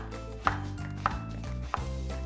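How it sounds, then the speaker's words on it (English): Zucchini being chopped with a knife on a board, three distinct close thuds spaced about half a second apart over a steady low background hum. "I'm going to chop up my zucchini."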